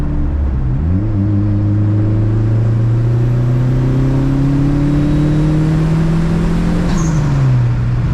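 A Dodge SRT-4 pulls hard through third gear, its engine note climbing steadily in one long loud sweep from close inside the cabin before easing off near the end. No one speaks over it.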